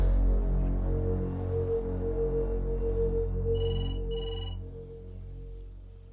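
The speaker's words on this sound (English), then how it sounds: "Nick, it's the phone." A telephone rings late at night, heard as two short, bright bursts of ringing near the end over a steady low hum in a quiet room.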